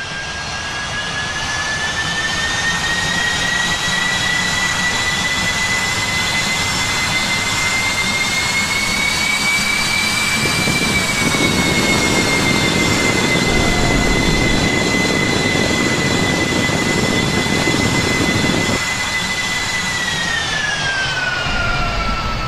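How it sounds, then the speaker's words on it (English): A Cebu Pacific jet airliner arriving from Hong Kong taxis in at Clark airport's main ramp, its engines producing a loud, steady whine with a rising-and-falling tonal pitch and broadband roar, close and continuous throughout. "G149, Hong Kong has just landed, and it takes around 10 minutes for the aircraft to taxi in at our main ramp."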